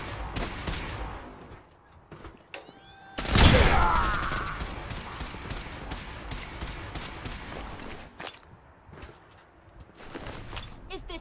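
Gunfire in Fallout 4: bursts of shots crackle through a busy battle mix, with one loud, dense blast around the middle and scattered sharp reports before and after.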